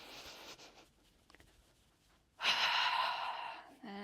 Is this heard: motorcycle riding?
no